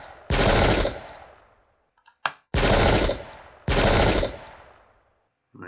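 Volleys of musket fire from the Pike and Shot Campaigns game, at the Battle of Marston Moor in 1644: three loud, long, roaring bursts separated by short quiet gaps, with a brief sharp crack between the first two.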